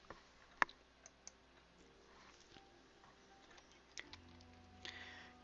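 A computer mouse clicks to close a window in the game Cities: Skylines, heard as a few faint, sharp, isolated clicks over a quiet room hum.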